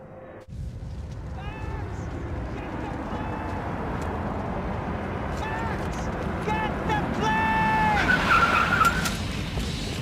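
Car engine roaring with tires squealing and skidding during a chase in Max Payne 3, steady loud engine drone under repeated high tire screeches, with voices shouting over it.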